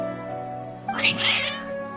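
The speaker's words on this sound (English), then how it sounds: "Your cats seem pretty worked up" Cats meow in the video game Genshin Impact, a couple of agitated, close meows rising over a steady tonal background music bed.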